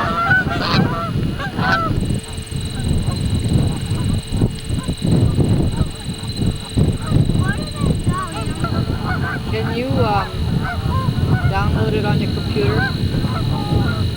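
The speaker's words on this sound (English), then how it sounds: "Here are the birds on Plum Island." Geese and other waterbirds honk and call continuously at the Plum Island Refuge bird sanctuary in Massachusetts, a dense, loud flock chorus with a steady background hum throughout.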